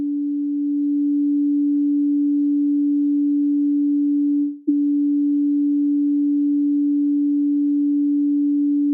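A large sound bowl rings with a steady, pure sustained tone that holds evenly for the whole stretch, with one brief dip midway and no talking.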